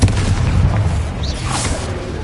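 A Confringo spell blast in the video game Hogwarts Legacy: a single loud booming explosion at the start, then a decaying rumble with faint crackle as it fades.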